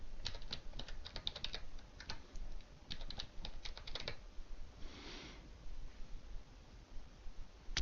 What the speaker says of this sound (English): You go to Authenticate field and type your name and password.